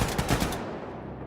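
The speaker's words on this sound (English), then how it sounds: "Shooting right underneath the toolbox" Gunfire in the video game Wolfenstein 2: The New Colossus: a quick burst of several loud, rapid shots in the first half second, then a decaying echo tail, with no talk.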